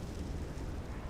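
A creature breathing fire in the fantasy game Neverwinter, a loud, sustained roaring whoosh with a heavy rumbling low end that holds steady throughout, with no speech over it.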